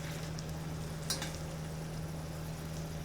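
Salmon burger patties frying over low heat in coconut oil, a soft steady sizzle with a faint hum beneath and one brief clink partway through.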